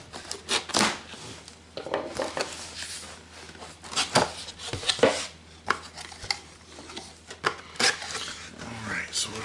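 A knife slices and pulls through cardboard packaging while a Canon EOS Rebel T7 DSLR camera box is opened, giving irregular close scraping, tearing and tapping sounds with a few sharp clicks.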